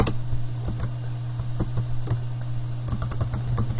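Rapid, uneven keystrokes on a computer keyboard in a classroom lesson, a steady run of light clicks heard alone over a low background hum.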